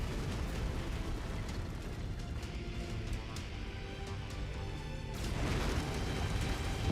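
Administration building exploding in MechWarrior 5: Mercenaries, a loud sustained rumbling blast with crackling debris that swells again near the end, dense and close in the game mix, no speech.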